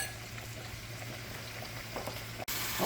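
Shrimp fry in butter in a pan with a steady, dense crackle and hiss. The sizzle runs continuously at a moderate level, briefly cuts out near the end, then resumes.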